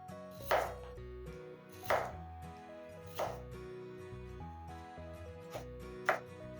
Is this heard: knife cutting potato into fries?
yes